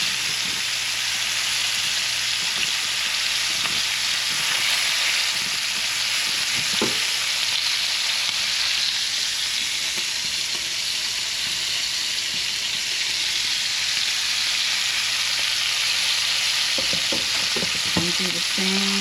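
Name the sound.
lamb chops sizzling in a frying pan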